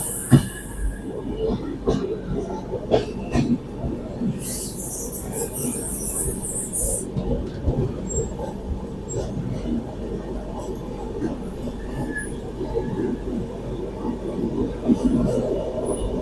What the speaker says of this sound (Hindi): भाई अम्बाला से निकलती ही अपनी ट्रेन जो है 130 की रफ्तार में भागने लग गई है